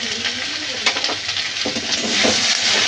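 Ground spices (turmeric, cumin, coriander and chilli powder) sizzle and fry in a pan for a tangra fish curry. The frying is loud and steady, with scraping stirring strokes close by.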